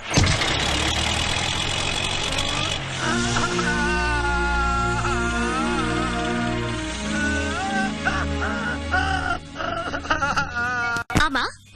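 A car engine turns over, then settles into a low, rumbling idle that carries on under voices and tonal sound in a scene, with a sharp break and a couple of knocks near the end.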